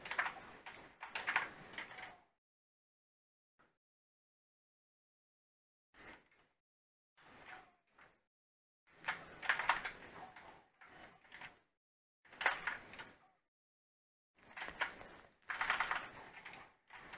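A computer keyboard used to play a fighting game clatters in bursts of rapid key presses, separated by silent pauses, close and fairly quiet, with no voices.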